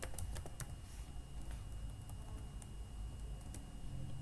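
Computer keyboard typing out JavaScript code, a quick irregular patter of light key clicks at close range over a low steady room hum, with no talking.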